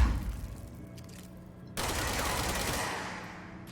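Rapid bursts of gunfire in the video game Control, a short volley at first, then a brief gap before a longer, dense stream of shots.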